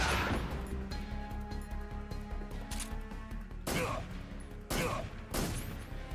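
Rapid gunfire bursts from a Metal Gear Solid 3 boss fight, with repeated sharp crackling volleys over a steady musical drone and several louder impacts near the end.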